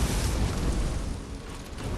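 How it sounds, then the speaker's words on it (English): A sustained, roaring blast from the video game Lies of P, dense and rumbling throughout, loud and continuous with a slight dip midway before swelling again. "set off an explosion"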